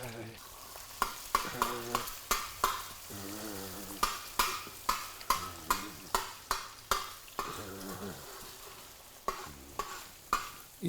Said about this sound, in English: You fry your egg first